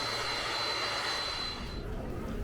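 A Japan Airlines Boeing 767-300 jet arriving at the airport gives off a steady, loud engine roar with a high whine that fades out partway through.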